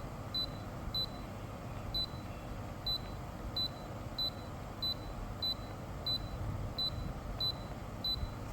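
Daikin inverter air conditioner PCB signalling an A1 error with a steady series of short, faint electronic beeps, about one every 0.6 seconds, over a constant low hum.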